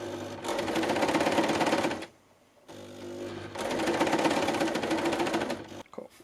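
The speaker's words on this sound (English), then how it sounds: "I'm joining it right sides together with the bottom of the skirt on the overlocker" An overlocker stitches a gathered chiffon ruffle onto the bottom of a skirt in two fast, steady whirring runs separated by a short pause, close and clear with no talking.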